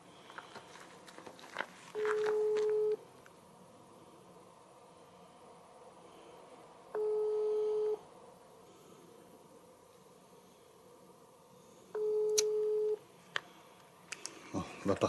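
Phone line busy tone after a dropped call: three steady one-second beeps about five seconds apart, fairly loud over a low background hiss.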